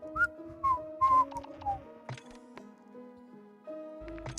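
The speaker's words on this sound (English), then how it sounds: "Let me whistle to you." A character whistles a short, wavering tune in the video game Caravan SandWitch, several rising and falling notes over a quiet game soundtrack.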